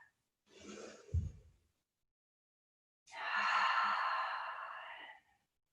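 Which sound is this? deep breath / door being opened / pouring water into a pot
deep breath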